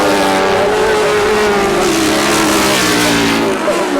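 1000cc sidecar racing outfits on a grasstrack motor up the back straight, a loud sustained engine drone with a rising and falling pitch, close and continuous with no break.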